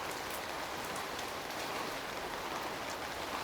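Steady rain falling outdoors, a dense even hiss of drops pattering on surfaces, moderately loud and continuous with no voices.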